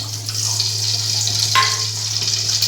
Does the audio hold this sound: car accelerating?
no